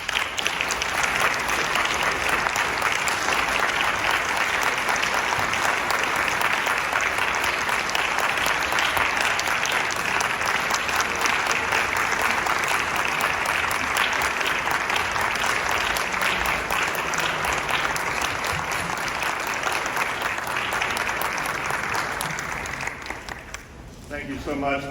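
Sustained, dense applause from a banquet audience welcoming a Hall of Fame inductee, steady for over twenty seconds before thinning out at the end.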